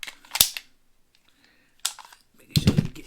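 A magazine seats into the mag well of a custom Canik Rival pistol. Several sharp, close metallic clicks and clacks are separated by near silence, followed by a burst of handling noise.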